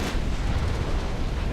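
A warship's magazine flash fire explosion in the naval battle game Ultimate Admiral Dreadnoughts, heard as a sustained, loud rumbling roar that fills the whole moment with no clear break.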